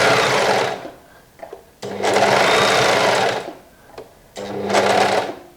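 A sewing machine stitches in three loud, steady bursts of motor whir and needle clatter, separated by short quiet pauses, with no talking over the running.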